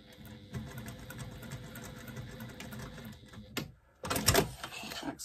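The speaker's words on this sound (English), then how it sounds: "Back stitched a couple of stitches just to make sure that that stays secure" A domestic sewing machine runs in short bursts while back stitching the side of a zipper placket, then after a brief pause finishes with a louder, brisk rattling run close to the microphone.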